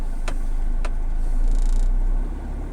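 Vehicle traffic at the Legazpi Park Sunday Market: a car engine hums steadily nearby with a low rumble, two brief sharp clicks early on, and a passing swell before easing off, no speech.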